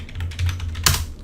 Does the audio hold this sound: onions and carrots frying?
no